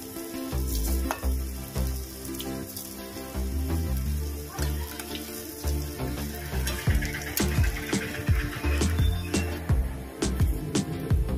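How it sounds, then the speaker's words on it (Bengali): Lentil fritters (dal pakora) frying in hot oil give a loud, close sizzle, broken by sharp clinks and scrapes of a spatula turning them, busier toward the end. "ডালের বড়াগুলো ভাজা হয়ে গেছে, আমি এবার নামিয়ে নেব।"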